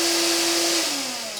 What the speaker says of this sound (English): So let's try this vacuum cleaner once again.